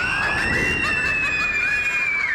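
Little girls scream at a scary clown, a loud sustained high-pitched shriek held steadily throughout with a few brief sharp bursts layered near the start.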